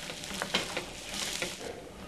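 Onions frying in a pan on a TV cooking show, a steady close crackling sizzle with a few sharper pops and stirring scrapes, no voices.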